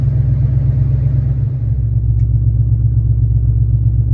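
The engine of a 2019 Dodge Charger Hellcat idles after being started, a loud, deep, steady rumble with a brief dip near the middle and no voices.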